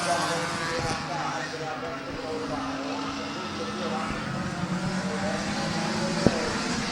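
Race cars circling an oval at Midvale Speedway in a one-lap shootout, a steady engine roar from several cars heard at a distance, with an announcer talking over the track noise throughout.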